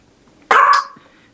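A puppy gives a single sharp, fairly close bark with a short trailing yip, set against near silence.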